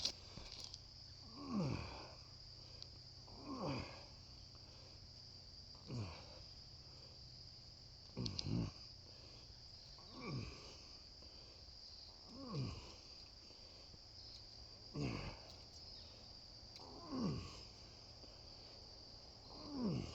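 Insects drone steadily outdoors at the Jenkins Ferry Civil War site, a faint, continuous high buzz, with periodic low swoops and thumps nearby every couple of seconds under it.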